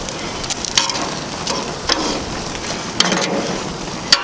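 Shrimp cooking on an outdoor grill give a soft, steady sizzle with scattered crackles and pops, close by and alone.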